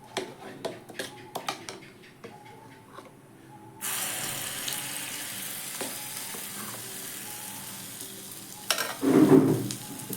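A ladleful of batter goes into a pan of oil over a medium-low gas flame and sizzles, a steady hiss that begins abruptly after a few clinks of utensils and swells briefly near the end.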